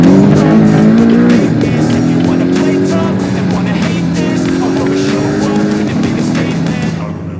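A car driving fast on a national speed limit road, its engine note rising and falling through gear changes, loud and close, with a steady rush of road and wind noise throughout.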